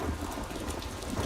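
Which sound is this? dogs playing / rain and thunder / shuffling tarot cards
rain and thunder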